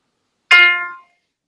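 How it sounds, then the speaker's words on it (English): An F note played on a phone keyboard app rings out once, a clear bright single tone that decays quickly within half a second, alone in silence. "I'm using my little keyboard on my phone."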